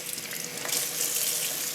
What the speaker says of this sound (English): I'm going to wash this fish, which you won't see here